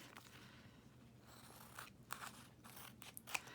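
Scissors snip and crunch through a paper card piece for a window journal card, several quiet cuts in an uneven rhythm with soft rustling between them, close but faint, with no talk.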